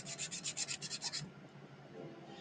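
Hand sanding on a Rolife DIY miniature greenhouse kit, a quick run of about nine rhythmic rasping strokes that stops halfway, leaving a faint room hush.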